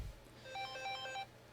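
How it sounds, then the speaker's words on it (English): A telephone rings on a call-in radio show, a quick repeating electronic trill in one short burst, fairly faint and alone. "Phone lines are blowing up"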